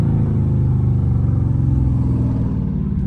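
A Dodge Charger Scat Pack with a catless exhaust cruises at night, its deep, steady burbling rumble loud and close with a slight rise in pitch.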